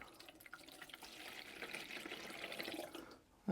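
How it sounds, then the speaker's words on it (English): Homemade fog juice poured into the reservoir of a fog machine, a steady close trickle of liquid running for about three seconds before tapering off, followed by a short clunk at the end. "I'm just going to pour in our shop-made stuff"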